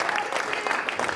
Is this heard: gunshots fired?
no